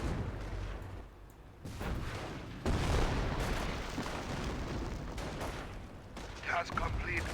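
World War II battle gunfire in Company of Heroes, with bursts of rifle and machine-gun fire and distant booms, a dense continuous combat din that drops briefly before surging again.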